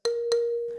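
A single marimba tone, A sharp in the third octave, triggered from a Ludwig Total Percussion Pad: two quick soft strikes then a clean, ringing pitched note that fades briefly, close and alone.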